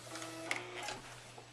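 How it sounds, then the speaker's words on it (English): A sewing machine stitching a fabric placemat, sewing in place briefly with a soft mechanical whir and a faint click, heard alone and close. "I'm going to sew in place a few more times"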